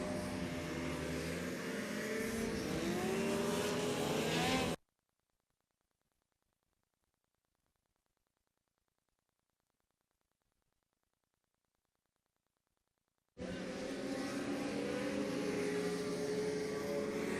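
Race cars climbing a hill at a motor race meeting at Magnolls, engines droning loudly and steadily before a long silent gap, then returning at full volume.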